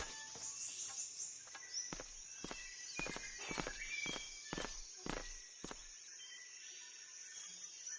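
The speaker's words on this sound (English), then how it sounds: "Footsteps." Footsteps in Metal Gear Solid, about nine evenly spaced steps crossing the scene over a faint high ambient hum.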